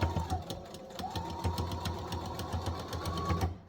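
A sewing machine runs steadily, its needle stitching double-sided reusable cosmetic pads in a fast, even mechanical rhythm close by, with one brief pause near the start before stopping at the end.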